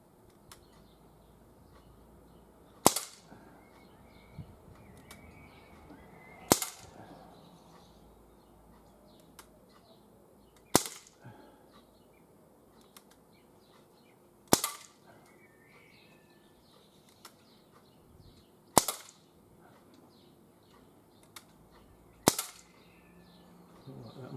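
Outdoors, a GAMO MP-9 CO2 air pistol fires six sharp, snappy shots about four seconds apart against a quiet background with faint birdsong.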